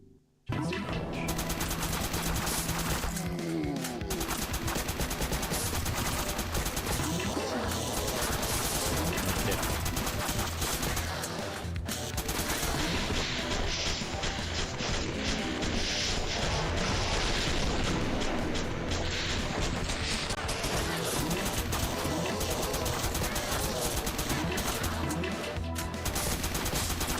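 Sustained video game gunfire with poison bullets, dense rapid machine-gun bursts and booming impacts running nonstop at steady loudness for nearly half a minute, with a voice talking underneath at times.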